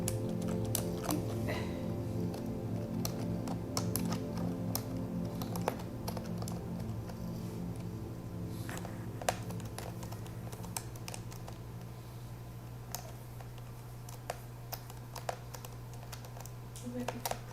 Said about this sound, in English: I'm pressing random keys to see if anything happens.